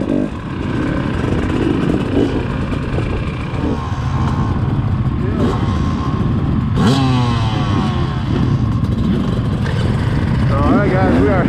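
A hard enduro motorcycle engine runs nearby, a steady throaty drone with a few rises in revs. It carries on throughout, with wind or trail noise around it and people talking at moments.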